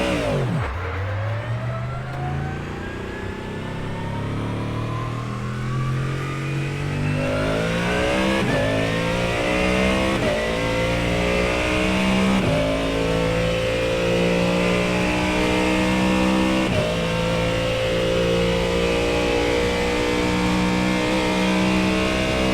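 A Ford Mustang GT3 race car engine in the iRacing sim at Bathurst, revving hard and loud throughout with rising gear-by-gear pitch sweeps and shifts, steady close-up drone with no talk.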